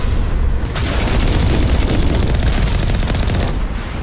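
Turret exploding in the Mass Effect video game, a sustained, loud boom with crackling debris and rumble filling about four seconds, dense and continuous with no voices.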